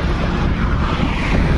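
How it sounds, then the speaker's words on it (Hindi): Strong wind roars steadily over a microphone while travelling along a road, a dense, continuous low buffeting rumble with no voices. "आज हवा इतनी तेज चल रही है भाई, बहुत तेज हवा है आज"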